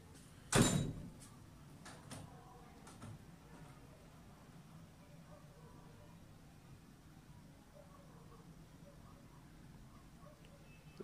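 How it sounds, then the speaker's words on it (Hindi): A house door swinging open on its own, a single sharp clunk near the start followed by faint creaks and rattles, then a long stretch of quiet room tone. "ये दरवाज़ा क्यों खुल रहा है ऐसे अपने आप?"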